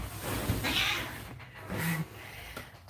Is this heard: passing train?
no